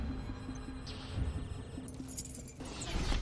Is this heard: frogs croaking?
no